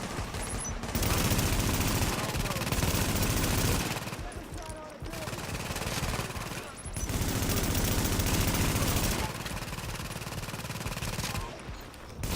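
A turret firing in a PvP survival video game: long, loud bursts of rapid machine-gun fire broken by brief gaps, dense and close throughout.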